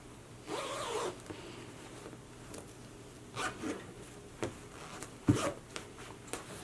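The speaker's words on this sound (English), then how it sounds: "So now let's zip her up" A dress zipper being pulled up during a sewing project, with several short rasping zips in separate bursts and small clicks between them, close and fairly quiet with no talking.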